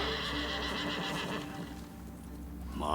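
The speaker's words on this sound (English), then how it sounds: "I called my horse just to see what happens." A horse in Ghost of Tsushima whinnies after being called, a loud drawn-out neigh close by with faint hoof clops underneath.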